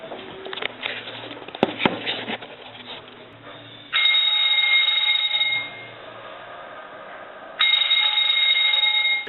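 A loud old doorbell in a Slovenian apartment building rings once: a sharp harsh buzz bursts in, holds steady for about two seconds, then drops away before a second loud ring starts near the end, over faint room noise and shuffling.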